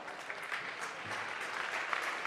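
A local crowd at a climbing competition claps for a climber in a short, dense burst of steady applause that carries through to the end.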